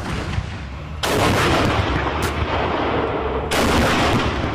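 Military tanks fire their main guns in two enormous blasts, each a sudden booming crack followed by rumbling roar that rolls on loudly across an open range.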